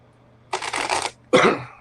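A deck of tarot cards is shuffled close up, two brisk riffling bursts separated by a brief pause, crisp and papery with nothing else over them.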